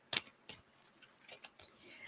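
A shuffled tarot deck is cut, giving a few crisp, quiet card snaps and slaps spaced irregularly, close and isolated against near silence.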